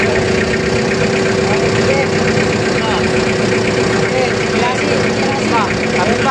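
Forklift engine idling steadily and loud while the machine rolls in reverse, carrying a lamp post along the Pasig River esplanade; constant rumbling drone with people talking over it.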